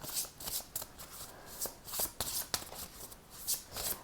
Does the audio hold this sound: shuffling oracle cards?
yes